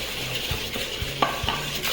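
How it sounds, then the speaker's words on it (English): Egg yolks and sugar whisked in a bowl for a fruit tart, a quick run of light scraping and tapping strokes against the bowl with a few sharper clinks, close and without voices. "So you mix this until it turns a lighter yellow."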